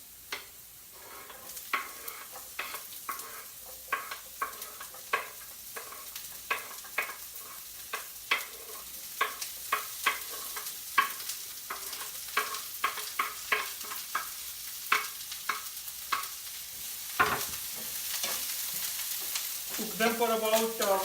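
Vegetables sizzle and fry in a pan for a cracked wheat daliya dish, with a spoon repeatedly stirring and scraping in an irregular rhythm, close and steady, with no talking.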